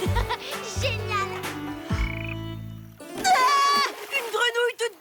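A slimy frog croaks in a series of loud, close, low, throaty calls with raspy overtones. Excited children's voices shout and chatter over and between the croaks.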